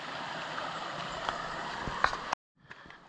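Creek water rushes steadily and close while a hiker wades across on foot in winter in the Great Smoky Mountains, with small splashes and knocks, then a sudden cut to near silence and faint trickling.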